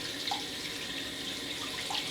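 Steady, quiet rush of tap water running continuously into a sink, with faint splashy variations and no voices.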